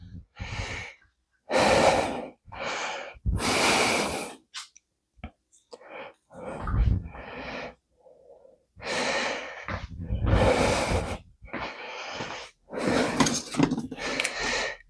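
After a set of bodyweight pull-ups, someone breathes heavily and close up in long loud gasping bursts separated by short pauses.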